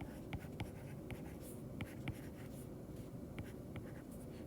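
Marker or chalk strokes on a classroom board while a vector is drawn during a lecture, a series of short scratchy squeaks in irregular bursts, fairly faint and close, with no talking.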